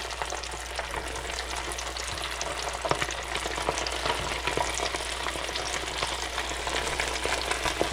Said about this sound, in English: Just dropping the chubs in the hot grease here.